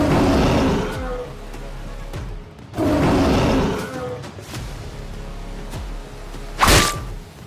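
Tiger in a Hindi cartoon story, two long loud roars close up, separated by quieter background sound, with a sharp hit near the end.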